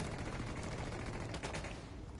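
Dense gunfire in the video game Ghost Recon Wildlands, a rapid burst of overlapping shots that keeps going for the whole short stretch, close and steady in level, with no talking over it.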